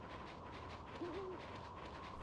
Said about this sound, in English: Is it an owl hooting?